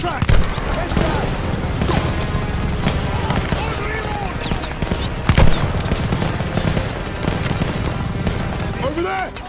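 Machine gun fire in Call of Duty: Vanguard, dense overlapping bursts and booms of a battlefield firefight running throughout, loud and close, with shouting voices over the gunfire.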